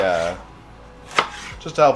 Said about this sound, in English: give it a couple little coarse chops